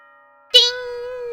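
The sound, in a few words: chime before the school announcement in Danganronpa video game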